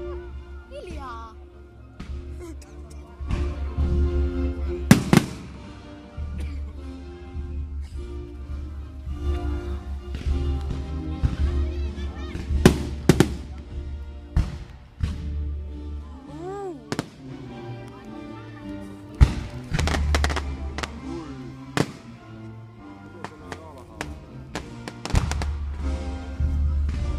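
Fireworks display for the closing of Tykkimäki amusement park, with many sharp bursts and crackling pops over a steady low rumble, some whistling rockets, and people talking throughout.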